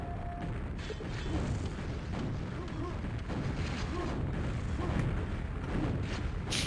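Rocket and grenade fire in a QuakeWorld 2on2 match, a dense continuous rumble of launches and explosions with repeated booming impacts, faint speech mixed underneath.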